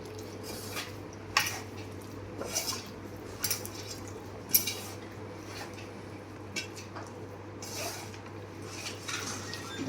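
Chilli ingredients stirred together in a bowl with a spoon, giving soft repeated scraping and clinking of metal against the dish, irregular taps with quiet squishy mixing in between, close and fairly faint.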